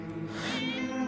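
A cat gives a drawn-out, strained meow close by, heard over a steady low background drone with no voices.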